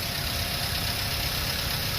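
A low-mileage 2009 Toyota Avanza G manual runs at idle with a constant, even engine drone and slight knock, heard up close with no voices for two seconds.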